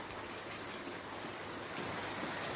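Overhead watering spraying down onto a vertical garden, a dense continuous hiss like steady rainfall, even and close, with no voices.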